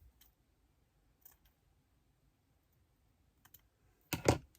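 Scissors cut a piece of ribbon for a scrapbooking craft, a few faint ticks and small snips spread out over quiet before one louder, closer double snip near the end.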